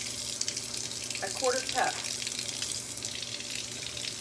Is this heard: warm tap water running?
yes